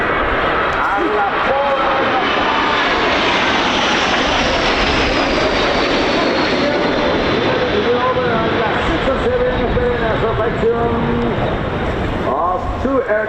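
A pair of Patrulla Águila jets make a flyby at the Royal International Air Tattoo at RAF Fairford, a loud sustained roar that slowly shifts in pitch as they pass, with a public-address announcer talking over it.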